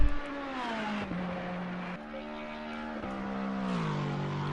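A GT3 race car at Monza roars loudly past the start-finish line, its steady high engine note shifting through upshifts with clear tonal steps, no talk over it.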